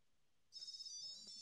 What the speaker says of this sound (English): So the tile's ringing.